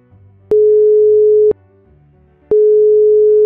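A steady telephone tone from an outgoing call placed with one click from a directory. Two long, loud one-second beeps are separated by a one-second gap, with nothing else heard.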